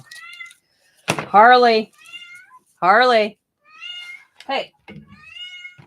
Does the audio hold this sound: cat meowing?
yes